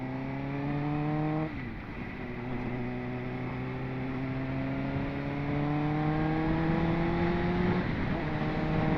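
A Suzuki GSX-R sportsbike engine, around 21 years old, revs close up through several gears, its pitch climbing steadily before dropping sharply at each shift, loud and clear with no talk.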